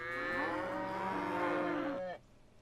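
Several cows moo in the video game Consciousness Simulator, a loud overlapping chorus of long bellowing calls lasting about two seconds, then cut off abruptly.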